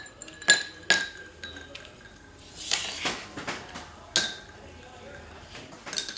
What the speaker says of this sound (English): And then some ice, as much as you can get into the glass.